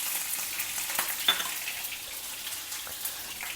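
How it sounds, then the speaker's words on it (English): Mustard seeds, methi seeds and chopped green chilli fry in hot coconut oil in a pan, giving a steady soft sizzle with a few faint pops and one sharp crackle. No voices are heard. "Add some mustard seeds, methi seeds, 1 green chilli finely chopped"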